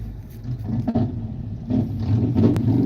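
Car engines in a parking area, a low rumbling drone with engine revs swelling and easing over a few seconds, moderately near, no talking.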